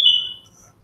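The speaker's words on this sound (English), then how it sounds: "that's the doggone fire alarms" A fire alarm gives a single short, piercing high-pitched beep that fades quickly into near silence.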